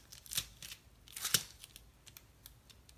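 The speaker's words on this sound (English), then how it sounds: "I'm gonna go ahead and remove all of my backings" Backing paper peeled off strips of Tear and Tape adhesive while making a card, a few quick close ripping tears followed by faint light crinkles and rustles.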